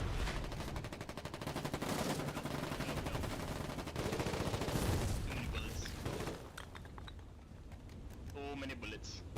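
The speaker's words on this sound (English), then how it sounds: "So many bullets." Dense gunfire from the video game Foxhole crackles in rapid bursts and sustained volleys, loud and continuous at first, then thinning into scattered shots and softer noises toward the end.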